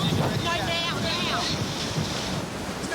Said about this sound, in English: Bondi dishes up some of the worst surf possible